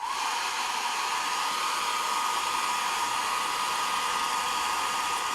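A hair dryer blows steadily on a painted fabric lion craft, a constant close whooshing hum that holds at an even level throughout with no voices.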